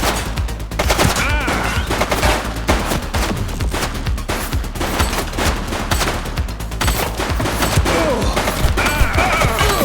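Dense, continuous gunfire from The Precinct video game, with rapid overlapping shots and crashes forming a loud, sustained barrage that runs the whole time with no break.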